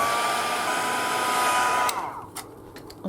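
A hair dryer blows hot air over a freshly speckled journal page, a loud steady whirring hiss that cuts off partway through, leaving a few faint clicks and soft handling sounds.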